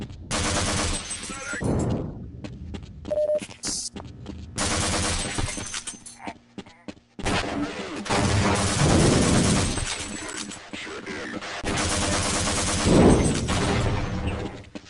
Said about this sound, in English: he has 50 cal mounted machine gun that just absolutely tears through the soldiers